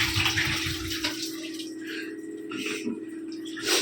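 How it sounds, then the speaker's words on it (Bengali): Water running at a sink while bottles and their mouths are scrubbed and rinsed, a steady close splashing stream with intermittent scrubbing rubs, and a voice speaking over it. "সব কটা বোতলের মুখগুলো সব মেজে মেজে তারপরে ভরছে। ভালো করে ধুয়ে নেবো কিন্তু।"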